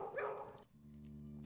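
A dog barks in the video game Broken Sword 2. A short burst of sharp barks comes first, then a steady sustained tone continues underneath on its own.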